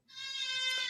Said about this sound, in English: What are you doing with this goat?